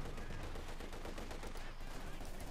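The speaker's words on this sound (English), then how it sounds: "T7 engaging with its 45mm cannon" Rapid gunfire and cannon blasts from a T-70 light tank's 45mm gun in the strategy game Company of Heroes 2, dense and continuous battle noise filling the whole stretch, loud and close.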